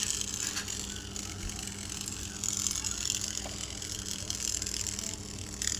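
A homemade wired remote control toy car is switched on, its small motor whirring with a steady rattling, gear-like ticking close by and without pause.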